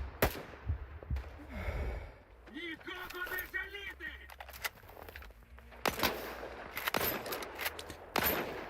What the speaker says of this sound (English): I like the way his gun sounds, bro.